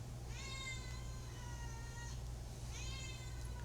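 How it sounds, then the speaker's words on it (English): Two drawn-out cat meows, fairly clear and close, each rising then falling in pitch and separated by a short pause, over a steady low hum indoors with no talking. "She doesn't shut up. That cat."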